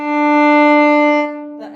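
A single bowed note on a violin's open D string rings out loud and steady for over a second, then fades away with a little scratchy bow noise at the tail.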